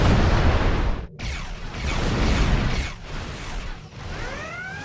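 Starship weapons fire in a Star Trek space combat game, loud rolling blasts and booming bursts, with a sharp cutoff near the start and whooshing sweeps toward the end.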